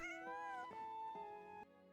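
An in-game cat in Genshin Impact lets out a few bright, tonal meows in quick succession, close and clear over a steady musical background, with the last call cut short.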